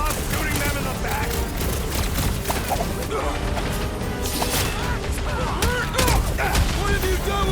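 Dense, continuous gunfire and crashing impacts from a battle in the video game Marvel's Guardians of the Galaxy. The fighting is loud and steady throughout, and character voices are mixed into it.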